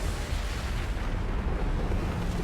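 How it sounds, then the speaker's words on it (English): An explosion in Mass Effect 2: a loud, sustained, rumbling blast that fills the whole moment with dense low roar and crackle, with no talk over it. "That was way more of an explosion than I was expecting."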